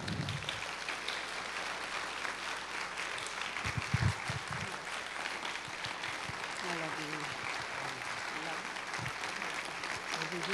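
A lecture-hall audience applauds to welcome speaker Philip Bialowitz at an evening talk, with steady, sustained clapping that fills about ten seconds while a voice speaks over part of it.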